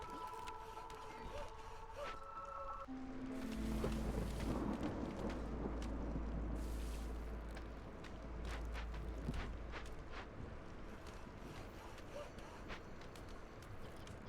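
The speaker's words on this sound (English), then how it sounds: "the storm is coming in" Thunderstorm in the video game Against the Storm: a deep, rolling rumble builds and swells through the middle before easing off, with a steady patter and scattered clicks running throughout.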